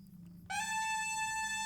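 A pibgorn sounding an A note that starts on one pitch and quickly bends to another, a bright reedy tone with strong overtones entering after a short quiet pause and then held steady.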